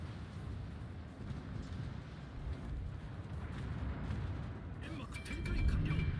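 Guns of a Tier 5 Japanese destroyer, the Kamikaze, firing in World of Warships, heard as dull low booms under a steady rumble that grow louder toward the end, with talking throughout.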